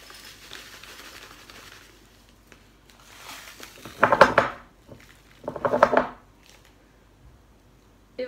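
Sugar, 50 g, is tipped into flour in a bowl for microwave chocolate cookies, with two clattering, scraping bursts against the bowl amid quiet handling noise and no talk.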